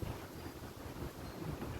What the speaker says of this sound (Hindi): एक तो ये हवा चल रही, बाल उड़ रहे हैं मेरे।